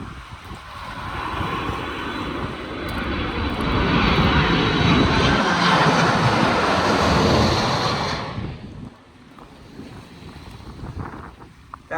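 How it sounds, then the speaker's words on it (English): An Amazon jet airplane flies overhead, its engine roar building into a loud, broad rushing drone, holding for several seconds, then dropping off sharply and fading to a faint distant hum, with some wind noise and no voices. "That whole jet was the Amazon jet."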